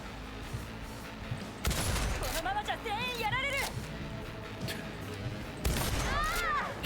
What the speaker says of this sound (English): This shotgun is just way too good.